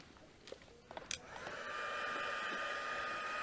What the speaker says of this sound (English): let's give this a dry with our heat tool